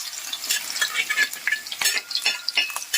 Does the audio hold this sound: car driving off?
no